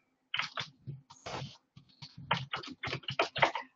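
Rapid, irregular bursts of keystrokes on a computer keyboard, close and clear, with short pauses between flurries of typing and no voices.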